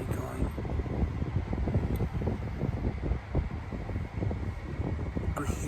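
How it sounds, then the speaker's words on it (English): An electric fan and an air conditioner run indoors, making a continuous broadband whoosh with a low rumble, steady and fairly close, with faint irregular rustling bumps and no talk. "with the fan going and the air conditioner going"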